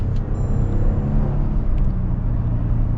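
A 2022 Toyota Tundra SR5 TRD Off-Road pickup with a 10-speed transmission drives along, its engine a loud, steady low rumble with smooth, barely noticeable gear shifts and no talking.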